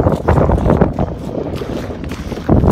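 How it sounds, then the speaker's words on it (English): Strong gusts buffet the microphone on an outdoor seaside walk toward Fort Gilkicker, a loud, rumbling low roar that swells and dips unevenly, with sharper blasts near the start and end and no clear talk. "I can't hear because of the wind"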